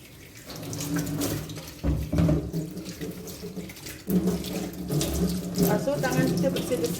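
Running tap water splashing into a sink as hands are washed in a home kitchen during thosai cooking, a steady close rushing stream with shifting splashes as the hands move under it.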